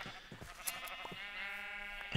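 Several sheep in the Minecraft video game bleat in quick succession, with one long nasal wavering call near the end, faint but clear over a low background hum.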